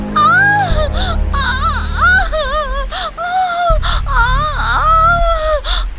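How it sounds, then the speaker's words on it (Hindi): A woman wails and sobs in pain, her voice rising and breaking in long anguished cries and gasps, loud and close, with a dramatic low musical drone underneath. "माधवी की दर्द भरी चीखें और रोने की आवाज कपिला सुनती है"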